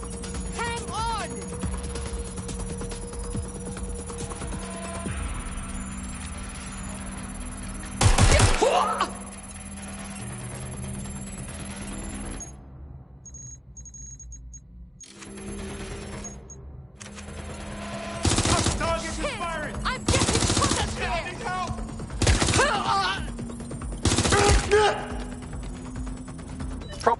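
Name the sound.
gunfire in a PS4 video game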